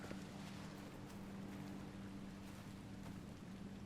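A boat idling on water in The Sinking City game, with a low steady engine hum and soft wind and water wash, faint and continuous throughout.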